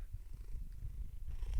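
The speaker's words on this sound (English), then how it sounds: "I'm just showing you my cat who wants to be on camera" A pet cat purrs close by in a steady low rumble that runs throughout, slightly louder toward the end, with no talking.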